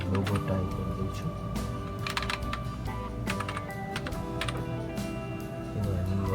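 Fingers tap out bursts of clicks on a computer keyboard, close and fairly quiet, with brief pauses between runs while a voice talks underneath.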